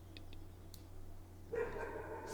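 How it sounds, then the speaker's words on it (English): A neighbour's dog barks and sets off another dog in a home. A few short, faint yips come from a distance, followed by a louder, sustained bout of barking over a low steady hum. "that's next door's dog starting my dog off"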